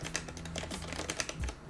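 Quiet keystrokes on a Corsair K60 RGB keyboard with linear switches, a steady run of soft, muffled clacks tapped at an even pace, close up and without talk.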